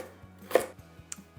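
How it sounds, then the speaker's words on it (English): Knife rough-chops peeled carrots on a cutting board, a series of soft regular thuds with one sharper crunchy cut, close and quiet. "The next step is going to be peeling and rough chopping these carrots."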